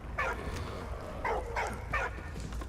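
A dog in the war game Valiant Hearts gives a few soft yips and whimpering barks, spaced irregularly and fairly quiet, over a low steady background hum.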